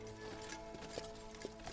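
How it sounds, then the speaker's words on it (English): A pair of fast, sturdy horses pulling a carriage along a road, hooves clip-clopping in a quick steady rhythm, faint and low beneath a soft background layer. "A pair of fast and sturdy horses gallop along the road, keeping a steady pace, racing north."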